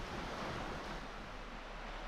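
Sea waves wash onto the shore at Fairlight Glen beach on a misty day, heard from a wild campsite as a loud, continuous roar of surf mixed with wind rumble, steady throughout with no voices.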